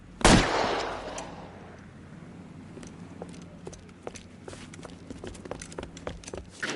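An old man fires a gun at a gang from a tin shack: one loud, close blast rings out, followed by scattered clattering knocks and rattles.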